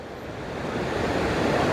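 Fast-flowing Mandakini river water rushing steadily as a dense, continuous roar that swells slightly louder, with no voices.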